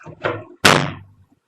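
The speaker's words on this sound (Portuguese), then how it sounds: "uma porta fechando-se com força" A door slams shut hard with a heavy, resonant bang, preceded by a couple of softer knocking thuds, all close and alone in a quiet room.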